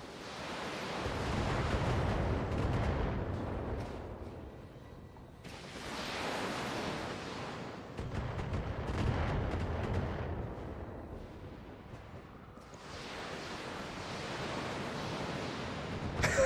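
Heavy mech weapons in the Battletech game pound away at an enemy turret in long rumbling, booming volleys, loud and continuous, swelling and easing in several waves.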